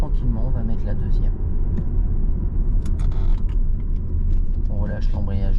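A car engine rumbles steadily at low speed as the driver shifts into second gear during a driving lesson on braking, with a continuous drone and faint mechanical clicks, while an instructor talks over it throughout.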